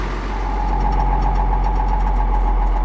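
An International Harvester 1466 tractor engine runs loud and close, a heavy steady diesel drone with a knocking throb as it rolls along in gear.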